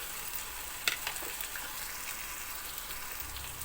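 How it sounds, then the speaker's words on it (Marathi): Tomatoes frying in a pan with ginger-garlic paste for a mixed vegetable dish, a steady dense sizzle with a few faint pops and stirring taps, close and continuous, without talk. "आता आपण यामध्ये टोमॅटो घालून घेऊ."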